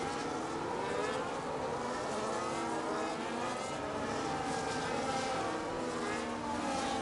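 Race cars in a sim racing league event at Silverstone roar through a restart, a dense continuous engine drone with shifting pitches from several cars running close together, steady and loud throughout.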